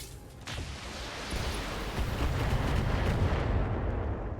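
Heavy mech weapon fire from the BattleTech video game: deep, rumbling blasts that build after a brief lull and sustain as a loud, continuous roar.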